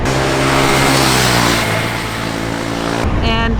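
KTM Duke 390 motorcycle ridden on a track, its engine a loud, steady drone close to the rider with a sudden drop in pitch near the end as the throttle closes under hard braking.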